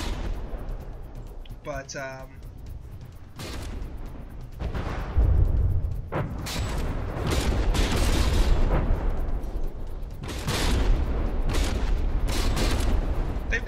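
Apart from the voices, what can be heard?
artillery guns firing in From the Depths video game battle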